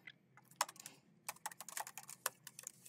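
Someone types code on a computer keyboard: quiet, close clicks come in quick irregular bursts, with a short pause between two runs of keystrokes and no talking.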